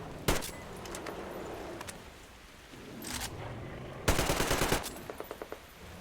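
Gunfire in a Metro video game: a sharp single shot, then a burst of rapid automatic fire that trails into a few spaced clicks and shots, with faint background noise.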